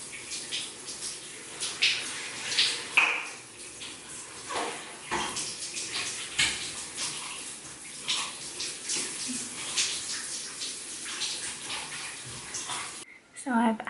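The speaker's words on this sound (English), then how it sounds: "So I've had my shower, washed off my guide tan" Shower water runs steadily in a home bathroom, a continuous hissing spray that shifts in texture as it strikes a body and surfaces, with a muffled voice now and then, cutting off abruptly near the end.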